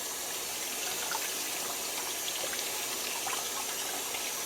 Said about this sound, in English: It's easy to clean out and rinse off.